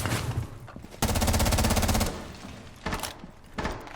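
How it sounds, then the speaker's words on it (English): Gunfire exchange in Rainbow Six Siege: a loud rapid automatic burst of about a second, then shorter bursts and single shots, close and sharp, without talk. "Exchange some shots with the bandit here."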